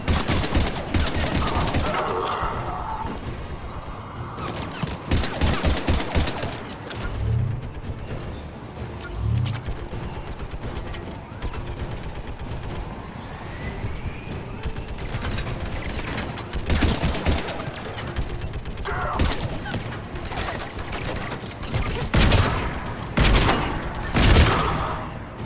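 Mountain gun firing in the shooter Mass Effect 3, with repeated rapid bursts of heavy automatic fire and booming impacts spread across a long battle, loud and close, with some mechanical clatter between volleys.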